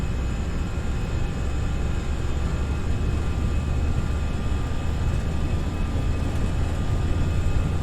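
Engines of an FSLabs A319 at takeoff thrust in the Prepar3D flight simulator, a steady loud roar with a droning whine and no speech.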